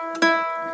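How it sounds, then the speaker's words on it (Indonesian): A single plucked first string of a standard guitar, sounding the note E, rings out quietly and sustains with a slow, gentle decay. "Nih, ini adalah bunyi senar 1 di gitar biasa."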